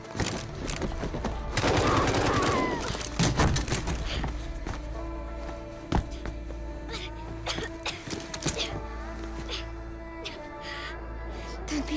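Gunfire in a Call of Duty game: a burst of sharp shots near the start, then scattered isolated cracks and thumps over quiet ambient tones, with a brief cough-like sound mixed in.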